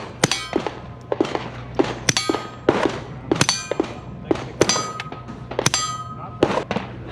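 Pistol shots fired at an outdoor range with Browning ammunition at a trade-show range day: about fifteen sharp, loud reports in quick, uneven bursts, each with a short ringing tail over a low background hum.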